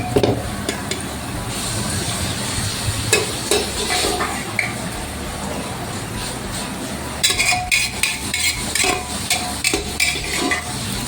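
Cooked vegetable is tipped into a hot pan and stirred for a tawa pav street-food dish, giving scraping and clinking of a utensil against metal over a steady sizzle. The sound is close and fairly loud, with brief sharper clanks later on.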